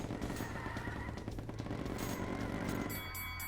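Dense rapid gunfire crackles continuously from a video game, a loud unbroken barrage of shots filling the whole stretch.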